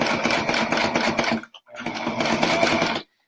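A sewing machine stitching close along a fabric edge on a toy sack project: steady, rapid mechanical whirring and clicking up close, a brief stop around midway, then another continuous run before it halts.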